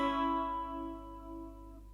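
Two guitar notes played together, fret 5 on the B string and fret 6 on the G string, ringing out clearly and sustaining as they slowly decay, with no talking.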